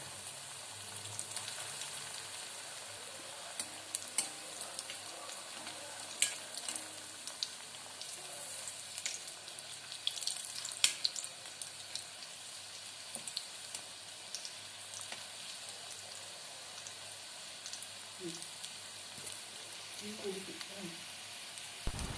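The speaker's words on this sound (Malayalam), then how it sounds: "ഇനി നമുക്കിതൊന്ന് ഫ്രൈ ചെയ്തെടുക്കാം." Bread-crumbed egg fingers fry in oil, a steady faint hiss and crackle of sizzling that runs throughout, with scattered pops and the occasional light clink of stirring, no voices heard.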